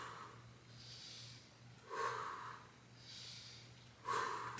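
Two forceful breaths pushed out during an ab exercise, one around two seconds in and another near four, each a short breathy burst over quiet background hum with softer inhales between.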